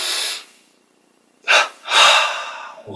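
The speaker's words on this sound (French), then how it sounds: "On inspire" Breaths during a breathing exercise: an audible airy exhale, a pause, then a short sharp intake followed by a long deep inhalation, close and breathy.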